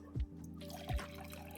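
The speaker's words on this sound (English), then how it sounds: "Then you heard the unmistakable sound of water being poured." Water being poured, heard as two quiet low glugs about a second apart over a faint background hiss.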